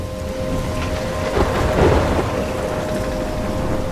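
A thunderstorm in the video game Life is Strange: heavy rain pours steadily and a deep rumble of thunder swells in the middle, loud and close throughout with no voices.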